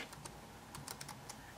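A computer keyboard clatters with quick, light keystrokes as a word is typed into a search box, the clicks close up and irregular over a steady hiss.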